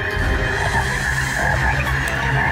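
Dense chorus of frogs croaking continuously, loud and close, a thick layered mass of calls with no speech.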